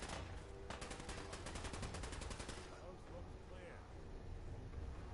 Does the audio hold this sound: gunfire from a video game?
yes